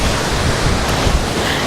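Ocean waves at the shore, a dense, loud, continuous roar of surf and wind-buffeted noise filling the moment with no talk.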